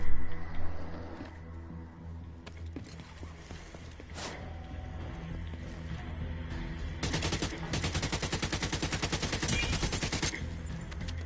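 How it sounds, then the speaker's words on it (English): Gunfire in the video game Division 2: scattered single shots and clattering game sounds, then a sustained, rapid automatic burst in the second half, fairly loud against a low background hum. "Did you just shoot that person in the face?"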